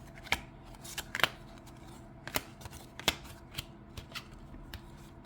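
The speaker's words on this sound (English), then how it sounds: "lots of cards are falling out" Oracle cards from a Prism Oracle deck spill out one after another as a scatter of crisp, papery slaps and flicks at irregular intervals, close and fairly quiet.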